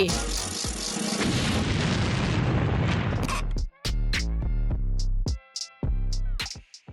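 A loud cartoon explosion booms and rumbles for a few seconds, followed by excited voices talking.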